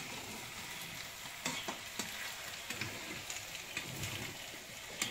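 Chicken frying in oil gives a steady crackling sizzle with scattered sharper pops, fairly close and continuous, and no voices over it.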